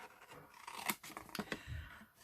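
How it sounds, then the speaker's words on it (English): Scissors snip through card stock for a papercraft box project in a run of short crisp cuts and rustles, very close and quiet, with no talk. "while I'm snipping away here"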